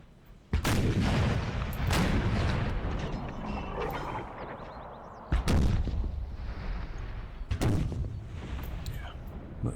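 Musket and cannon volleys from troops in the historical battle game Empire: Total War, three heavy booming bursts at irregular intervals, each trailing into a long rumbling crackle of massed fire.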